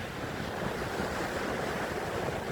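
Broad, steady wash of sea surf rolling in across a wide open shore, continuous and fairly loud, with some wind noise over the microphone and no voices.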